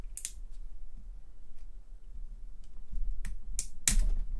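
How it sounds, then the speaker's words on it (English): Sharp, scattered plastic clicks and snaps ring out as a flathead screwdriver pries apart a computer keyboard, several isolated cracks over quiet background, with a louder snap at the end. "This requires a little prying, a little elbow grease."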